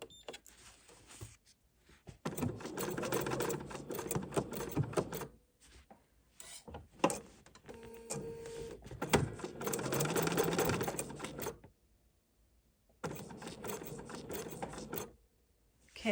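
A sewing machine stitches embroidery along a vine motif in repeated bursts of fast mechanical whirring, broken by short pauses and soft handling clicks, close and fairly quiet.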